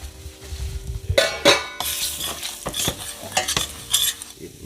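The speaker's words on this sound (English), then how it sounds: "now I'm gonna add the curry to the pot" Curry hitting a hot pot for Jamaican-style curry oxtail, giving a sudden loud sizzle with sharp spits and crackles, mixed with a utensil stirring and clinking against the metal, close and busy with no talking.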